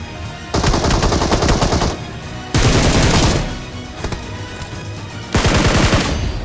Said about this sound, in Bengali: আর লেফট সাইড থেকে শুনলাম যে একটা ফায়ার দিছে আমারে